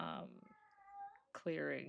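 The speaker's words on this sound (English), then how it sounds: "Sorry if you hear the cats in the background." Cats meow in the background of a tabletop role-playing session, a drawn-out tonal cry rising and falling between stretches of close talk.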